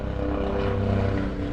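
A helicopter flies overhead, its rotor and engine making a steady, loud, throbbing drone that fills the whole moment without letting up.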